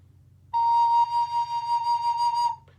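A single recorder B flat note is held steadily for about two seconds, pure and breathy, close up with no other sounds.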